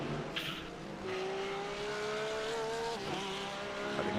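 A Porsche race car in a sim racing game at Imola rising through its engine note in one steady, sustained whine, with a brief dip near the end.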